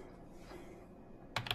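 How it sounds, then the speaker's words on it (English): Quick, faint keystrokes on a laptop keyboard come in a short burst at the very end, after a stretch of quiet room noise. "we're typing it in"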